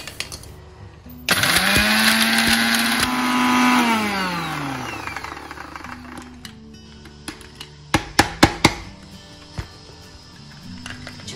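A kitchen mixer grinder whirs at high speed, grinding cinnamon, cardamom, cloves, poppy seeds, marathi moggu and cumin. The motor revs, its pitch falls as it winds down, then a cluster of sharp clatters and knocks follows.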